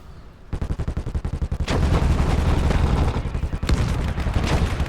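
Rapid bursts of automatic gunfire crackle through a large-scale battle in the video game Motherland, with dense rattling volleys overlapping into a continuous loud barrage, broken by brief dips before the shooting surges again.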